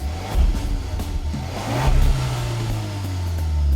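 A 2018 Hyundai Kona Ultimate AWD with a 1.6-liter turbocharged four-cylinder and seven-speed dual-clutch automatic pulls away, its engine note rising steadily and held close and fairly loud with no talk.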